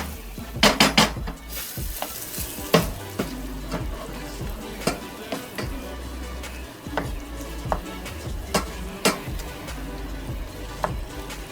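Ground beef and minced garlic browning in a pan, with steady light sizzling broken by sharp clinks and scrapes of a utensil against the pan, repeated irregularly throughout.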